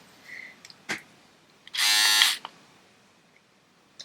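A lilac electric razor buzzing loudly and close for about half a second, with a few faint clicks and handling taps before and after.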